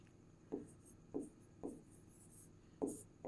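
Pen or chalk writing by hand during a Class 10 maths lesson on linear equations, five short scratchy strokes at a steady rhythm, fairly quiet against a faint background hum.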